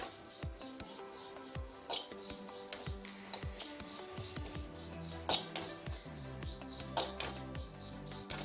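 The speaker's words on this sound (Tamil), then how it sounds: "அதுக்கு அடுத்தது ஜீரகம் போட்டு வறுத்துக்கிறேன்." Cumin seeds are dry-roasted in a pan for rasam powder, giving faint scraping and rattling from repeated stirring, with soft metallic clinks at a quiet, close level.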